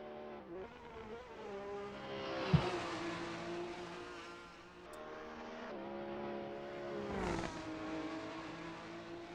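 Race cars on the narrow Nürburgring Nordschleife during an Alfa racer championship round, engines droning and shifting as they pass, with a brief sharp knock and a swelling roar near the end, moderately distant.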